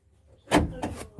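The driver's door of a 2004 Suzuki Espass ZL Extra, a van with a faulty sliding-door lock, gives a sharp latch clunk followed by a second softer mechanical knock, close and in an otherwise quiet space.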